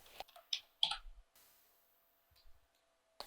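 A handful of separate computer keyboard keystrokes, close and quiet. Quick clicks come near the start, then a pause, then a few more taps and one final click, with near silence between them.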